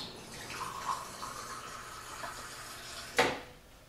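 Warm tap water runs steadily into a half-cup measure in a home kitchen, a soft continuous pour ending in a sharp clink of the cup near the end.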